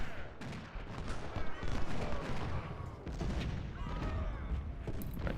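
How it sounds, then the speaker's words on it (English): A point-blank musket volley in the Civil War strategy game Ultimate General: Civil War crackles as a dense, rolling fusillade of many overlapping shots, continuous and loud with booming low rumble throughout. "shoot a point-blank volley into them"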